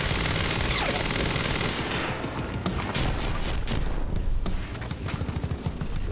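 Rapid automatic gunfire from a weapon in the video game Quantum Break, loud and dense bursts of overlapping shots with sharp reports continuing throughout, no talking.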